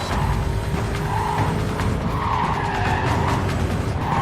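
Tires screech and skid almost without a break over a race-car engine roar in Need For Speed Carbon, loud and continuous, with squeals rising and falling as the car slides.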